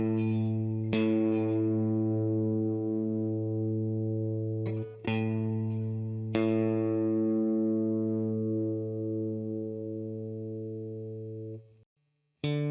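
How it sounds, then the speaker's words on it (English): A rock guitar being tuned, the sixth string fretted at the fifth fret and the open fifth string plucked to match; sustained clean tones ring out, with a few fresh plucks, then fade into a brief silence before another pluck. "I play the 6th string 5th fret and tune the 5th string open to that."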